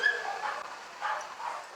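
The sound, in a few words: dog in a stroller at a pet parade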